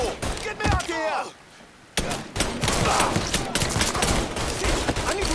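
Rapid gunfire in the Mafia III video game, dense overlapping shots and bursts that are loud and close, briefly broken by a shouted voice and a short lull before the firing resumes.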